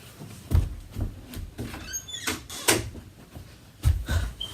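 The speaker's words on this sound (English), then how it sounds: "let me close this door" A household door is pushed closed indoors, giving a few soft, muffled thumps and knocks at close range with light handling noise between them.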